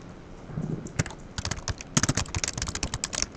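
Rapid, uneven clicking of a computer keyboard as a git commit message is typed, close and fairly quiet, keystrokes quickening into a dense patter after a hesitant start.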